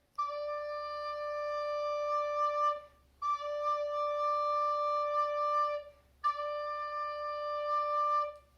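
Recorder sounding the note D with the thumb and three fingers of each hand down, three sustained, steady tones separated by short breaths, clear and close with no talking.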